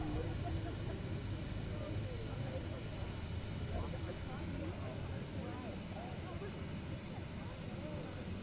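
Airplane taxiing in Microsoft Flight Simulator 2020 on the ground at Manila, a steady engine drone and rumble that holds at an even level throughout, with a voice talking over it.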